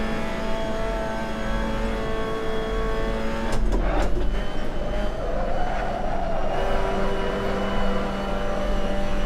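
A race car engine in the Assetto Corsa racing game at Zandvoort holds a steady high-revving drone without a gear change, with a brief rattling burst partway through.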